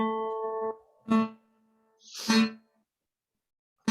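Single guitar notes fretted at the second fret of the third string, each plucked, ringing clearly and then cut short, with a few separate attacks in quiet surroundings.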